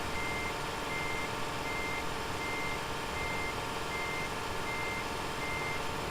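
A truck backs up in Euro Truck Simulator 2, its reversing alarm beeping steadily at an even pace over a constant low engine drone.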